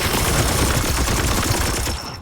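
Sustained rapid gunfire at a target in Chaos Gate - Daemonhunters, a loud, dense burst of rattling shots that runs continuously for about two seconds before cutting off abruptly.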